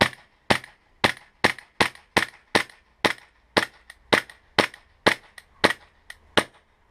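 A KJW G19/G23 gas blowback airsoft pistol fires a string of about fifteen sharp, close, loud cracks at a steady, slightly uneven pace, each shot ringing briefly, with no voices.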